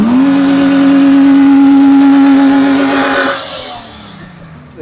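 A modified vintage Emirati local car's engine revs hard and loud up close, holding a sustained high roar for about three seconds before the pitch drops and the engine falls away toward idle.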